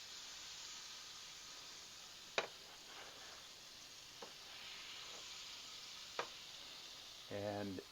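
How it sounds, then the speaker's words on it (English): Butter melting in a hot frying pan gives a steady soft sizzling hiss, with a few sharp clinks of a utensil against the pan and a brief scrape near the end. "We need to put a little more butter in the pan. Just let that melt."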